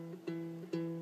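One ukulele string fretted between the first and second fret on the top string, plucked in a few soft, evenly spaced notes that ring on steadily, near and unaccompanied by voices.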